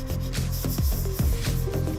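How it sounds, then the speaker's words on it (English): Sanding fine putty on a repaired car body dent, a steady close rubbing rasp repeated in quick back-and-forth strokes with no voices. "After this, sand the transitional area once more"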